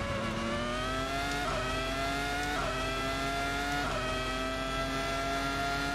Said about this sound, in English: It's going to be a straight drag race to the line.